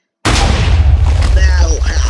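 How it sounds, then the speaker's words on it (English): A loud explosion in Minecraft near an obsidian redstone machine, bursting suddenly out of silence into a heavy booming rumble that keeps roaring to the end, with a voice briefly heard under it. "But that was a bigger explosion than I expected."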